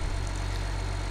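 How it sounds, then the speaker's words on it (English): A tractor engine idles in the video game Farming Simulator 17, a steady, close low drone with an even hum and no breaks. "Yeah, I'm still a big fan of this tractor."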